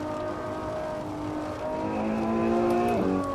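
Car engine droning and shifting in Assetto Corsa on a wet track with no traction control, steady mid-pitched revs rising gradually, then a quick gear change drop near the end, heard alone without talk.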